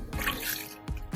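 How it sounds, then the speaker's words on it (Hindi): Water poured into kitchen waste being prepared for compost, a short splashy trickle that cuts off and returns in brief gushes, fairly close. "और इसमें मैं पानी मिला देती हूँ"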